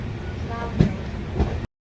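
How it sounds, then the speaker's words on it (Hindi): A train arrives at Babatpur railway station near Varanasi, a steady rumbling roll of wheels and carriages close by with a couple of soft clanks, ending abruptly. "फाइनली भाई अपनी ट्रेन पहुंच रही है बाबतपुर रेलवे स्टेशन"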